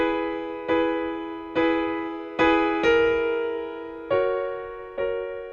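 A B note from the A minor scale is plucked again and again, seven clear, sustained tones spaced about a second apart, each one ringing and fading before the next.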